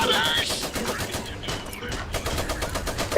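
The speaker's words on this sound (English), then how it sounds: "Machine gun. Heads down." Machine gun fire in the real-time strategy game Iron Harvest, a steady rapid rattle of shots lasting several seconds, mid-distance and fairly loud under battle noise.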